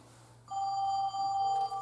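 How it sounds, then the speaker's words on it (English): A home landline phone rings from an incoming call, a steady electronic tone that starts abruptly and holds with a brief break, loud and close in a quiet room. "I'm going to go ahead and call this phone from my cell phone"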